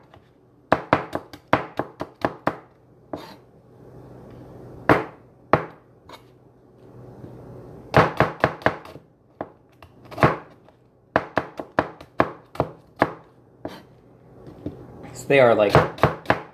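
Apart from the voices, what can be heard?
knife chopping small cabbage-like vegetables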